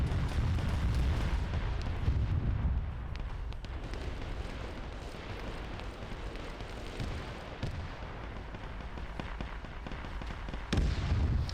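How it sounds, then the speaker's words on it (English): Dense, continuous rumbling fire and explosion effects in a Zeus-run military campaign game, loud and close, with a steady roar, scattered crackling bursts and a sharp cutoff near the end. "Again, I don't mind the fire effects"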